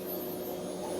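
A Eureka Forbes Maxxvac vacuum cleaner switched to blower mode runs with a steady, loud, continuous motor whine and rushing air, unbroken from start to end with no talking.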